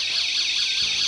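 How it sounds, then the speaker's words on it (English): A magnetic door intruder alarm blares as a loud, continuous high-pitched electronic wail with a steady warbling rise and fall, sounding close and filling the whole moment alone. "and sets off the alarm"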